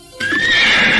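A loud, close horse whinny rises and then holds for about a second, as a sound effect in an Indonesian radio drama. Faint hoof clatter sits underneath.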